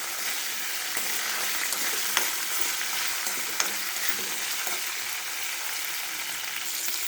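Green chillies fry in a pan with urad dal, chana dal and cumin for a coriander tomato chutney, giving a continuous, even sizzle with a couple of faint clicks of stirring.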